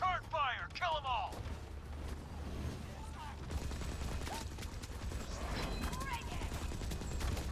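Gunfire in a video game battle against stealth units: steady bursts of shots and mechanical clatter through several seconds, with radio voices and chirping effects over the shooting.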